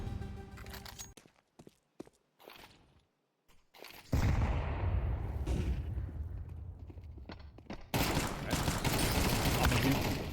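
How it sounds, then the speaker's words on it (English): Gunfire in Counter-Strike 2 during a FAVBET versus Eternal Fire esports match: sharp shots and bursts that break into loud, dense sustained firing in the second half, mixed with game sounds. "Emor, sharp shooting."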